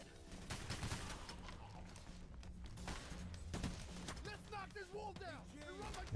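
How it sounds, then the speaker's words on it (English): Video game gunfire in an OVERKILL Software shooter, sharp close bursts of rapid shots mixed with clattering effects, with people talking over it. "And these gun sounds are amazing."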